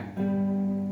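A single plucked guitar G note rings out steadily after a soft onset, sustained and fairly close.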